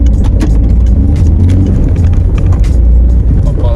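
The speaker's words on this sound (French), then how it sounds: "il y a une voiture, bon on va y aller vite." A car drives past close by, its engine note loud and steady for a few seconds, with faint rustling and no talk.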